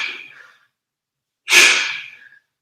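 Heavy breathing during an ab workout: one forceful exhale fades out, then after a short silence comes a second sharp, loud breath close to the microphone.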